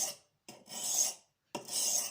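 A blade is rasped across an oiled Norton India sharpening stone in three strokes, each a bright, close scraping hiss separated by short silences.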